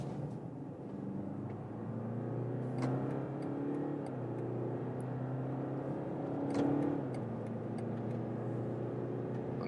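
A Mercedes E-Class W214 or BMW 5 Series G60 accelerating hard from 50 km/h in sport mode: a steady engine drone rising in pitch through two gear changes, heard from inside the cabin with no talk.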